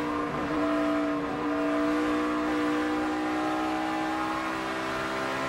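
On-board sound from Carl Edwards' No. 99 NASCAR Sprint Cup car racing at Kansas, a loud, steady engine drone with sustained harmonic whine, close and continuous throughout, no speech.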